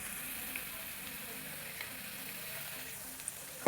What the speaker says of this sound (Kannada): ನೋಡಿ, ಇವಾಗ ಮೊಟ್ಟೆ ಆ್ಯಡ್ ಮಾಡ್ತಿದ್ದೀನಿ 4ನ.